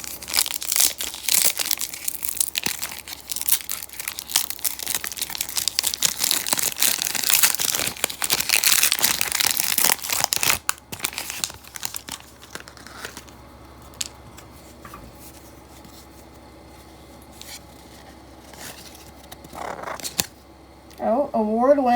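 Score hockey card foil packs torn open, with loud crinkling and ripping foil for about ten seconds, then quieter card handling and shuffling, while a voice talks intermittently.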